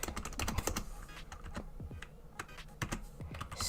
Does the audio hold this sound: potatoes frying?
no